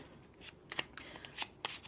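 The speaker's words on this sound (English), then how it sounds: "I'm going to shuffle on these little deck of cards here" A small deck of cards being shuffled by hand, a few quick riffling bursts close up, with no talking over it.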